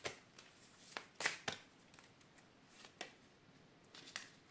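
A card drawn from a deck: faint, quick papery snaps and soft slides of cards being handled, several sharp flicks scattered over a quiet background, with no voices.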